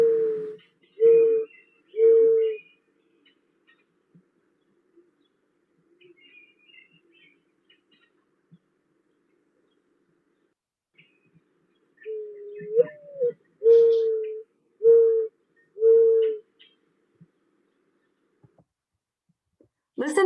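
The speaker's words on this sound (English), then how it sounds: "Often described as a mournful coo, the mourning dove's song can be heard coming from either riparian areas or open" A mourning dove's soft, low mournful coos, a run of three evenly spaced notes followed after a long pause by a longer phrase of several more, heard alone and fairly close.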